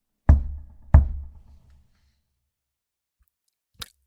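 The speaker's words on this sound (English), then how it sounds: "As you knock 3 times before you put your shoulder into it, you just hear." Knocking on a wooden door: two sharp, resonant knocks close together, each ringing briefly, then a pause and a much fainter third tap.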